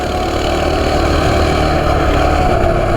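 Small Coleman CT200U mini bike engine idling up close, a steady, loud, low rumbling drone that holds evenly throughout with no talking.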